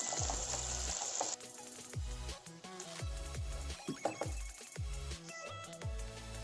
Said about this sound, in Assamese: এতিয়া কালাৰ চেঞ্জ হোৱালৈকে আমি ভাজি থাকিম।